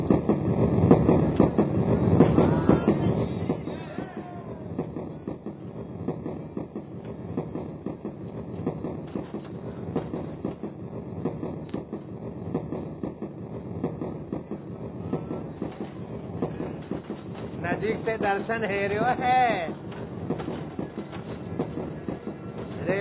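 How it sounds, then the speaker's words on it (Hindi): A train runs along the rails with a steady broadband rumble and faint rhythmic clatter, while people talk and chant over it near Mathura during Sharad Poonam. "रेलगाड़ी चल रही है।"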